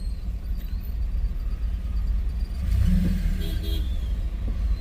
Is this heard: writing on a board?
no